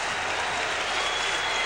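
A hockey arena crowd applauds New York Islanders goaltender Glenn Healy during a 1993 playoff game against the Pittsburgh Penguins. The clapping is dense and sustained, a broad roar of many hands.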